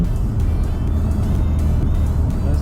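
A BMW M3/M4 with boost gauge fitted, driving on a highway in sport mode, gives a loud, steady engine drone with constant road rumble throughout, no voices.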